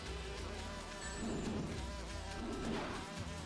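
Bees buzz in the video game Sonic and the Black Knight, a continuous insect drone at moderate loudness that swells slightly in the middle and near the end, with no voices over it.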